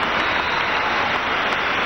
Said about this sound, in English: he will get a standing ovation from this crowd